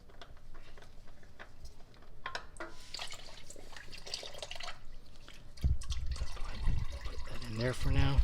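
Motor oil draining from a 2016 Ford Explorer during an oil change, a steady dribbling trickle into a pan that grows louder and splashier toward the end, heard close up with faint speech in the background.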